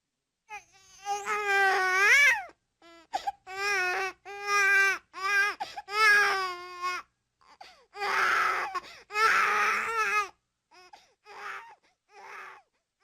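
A baby cries and babbles its first sounds, wailing in drawn-out rising and falling bursts with short pauses, then breathier sobbing cries trailing off into fainter whimpers, close and alone.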